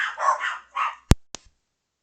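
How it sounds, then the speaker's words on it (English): Several dogs bark at neighbours walking past a house: a burst of overlapping yelps and barks, then a few sharp, separate knocks or thumps, close and fairly loud, trailing into silence. "I had to go deal with the dogs yelling at the neighbors as they walk past the house"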